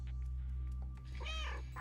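A cat in the video game Stray meows once, a clear drawn-out meow over a steady low background hum, with no talking.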